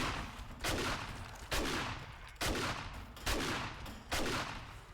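Shotgun blasts in 7 Days To Die ring out one after another, about five loud booming shots spaced under a second apart, each trailing off in a decaying echo.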